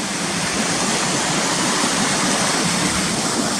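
Waterfall at Cautley Spout pouring over the lip of the big spout into a natural basin, a loud, steady, close roar of rushing water with no pauses.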